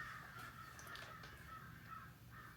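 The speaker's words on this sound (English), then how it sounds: "And the crows agree." Crows caw outdoors in a series of harsh, repeated calls over low background noise. The calls are moderately faint and have no talk over them.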